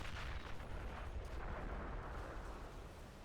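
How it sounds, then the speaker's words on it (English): Dense, continuous battlefield roar of machine gun fire in a war video game, heavy and close with rapid shots blurring into a steady rumble that holds for the whole stretch, with no voices. "It's certainly a number of MGs."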